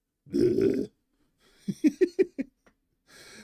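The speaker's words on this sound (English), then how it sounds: "That is a lot of belching" A drawn-out burp, then a quick run of short choppy belch-like grunts and another soft eructation at the end, close and loud with silence in between.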